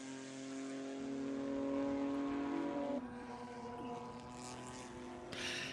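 Car number 58 powers through Canada Corner at Road America during a World Racing League seven-hour endurance race, its engine note loud and sustained. The pitch shifts partway through as it climbs the hill, with more engine noise layered underneath.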